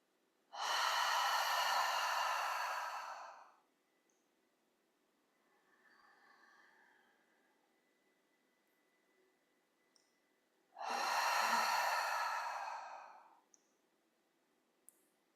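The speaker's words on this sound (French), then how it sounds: "inspirer profondément par le nez. Et souffler par la bouche" Two long, deep breaths of a guided relaxation exercise, each drawn in through the nose and pushed out through the mouth, loud and close, separated by a quiet pause with a faint murmur.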